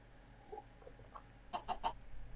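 Chicken clucks in Minecraft, a few short soft clucks spaced apart and then a quicker cluster of three near the end, faint and alone over quiet background.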